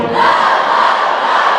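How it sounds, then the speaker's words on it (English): Parents in a middle school band concert audience shout together louder, a dense, sustained crowd yell of many voices holding steady throughout at close, full volume. "Do you think mom and dad can be louder?"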